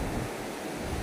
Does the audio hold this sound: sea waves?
yes